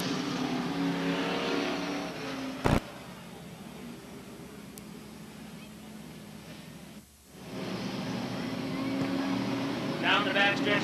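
Race cars circle Star Speedway under a yellow caution in a 1990 event, a continuous engine drone with a sharp click and a brief dropout, then rising revs as throttles open, with an announcer talking over it.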